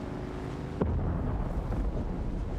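Hollow, low rumbling thump from drum sand in the game Dune Awakening, a sudden deep hit followed by a sustained resonant boom over wind-like noise, heard alone.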